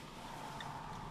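Steady low electronic hum from an electric car's external pedestrian warning speaker at a test-drive event, continuous and even, heard up close without voices.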